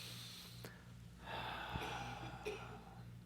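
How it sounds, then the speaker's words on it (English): A single slow, deep breath drawn in during a quiet spiritual affirmation session, faint and airy over a low hum, with no talk. "And a breath again."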